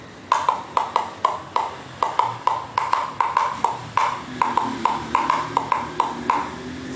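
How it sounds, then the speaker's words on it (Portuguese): A sound block instrument made from recycled PET bottles being struck, producing a quick run of bright, ringing hollow pings, about twenty evenly rhythmic hits, close and clear with no talk. "O bloco sonoro é esse aqui."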